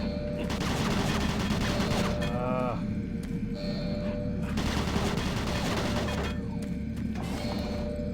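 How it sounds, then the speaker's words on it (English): Automated turret guns in Doom 3 fire in repeated loud bursts of rapid gunfire over a constant din, with short gaps between volleys and a brief electronic warble partway through. "Automated turret guns online."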